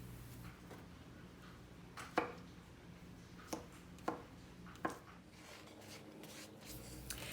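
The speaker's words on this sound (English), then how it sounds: "all the potatoes that I'm cutting" Knife cuts potatoes into squares for a salad, a few sharp chops on a board spaced irregularly over quiet background rubbing, close and fairly faint.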